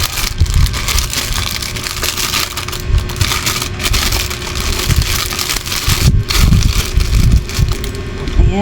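Plastic wrapping of a face mask pack rustled and crinkled open at close range, continuous crackling with a few louder bursts, some masks dropping as the package is handled; no talk.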